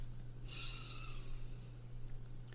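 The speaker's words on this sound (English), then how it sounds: "Take a moment to stop and take a deep breath." A single slow, deep breath drawn in through the nose, a soft airy inhale lasting about a second over a steady low background hum.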